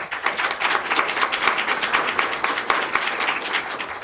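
An audience at a health care reform talk claps for speaker Peter Long, a dense, steady round of applause from a room full of people, moderately loud throughout.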